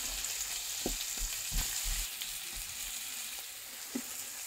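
Onions and chicken frying in a pan, a steady sizzle with several soft stirring scrapes and knocks spread through, close and moderately loud.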